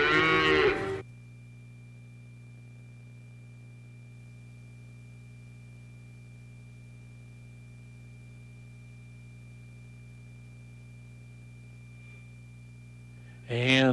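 A cow moos in short bursts at the start and end, with a steady low hum filling the long gap between.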